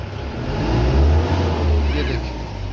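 Mahindra Bolero engine, recently repaired for an EGR fault, revving as the accelerator is pressed, with a close, low rumble that swells and settles, under nearby talk.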